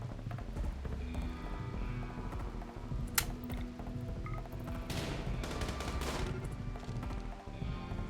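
Gunfire crackles in the RimWorld colony game, with scattered sharp shots and a few quick bursts against a busy, clicking background, moderately faint.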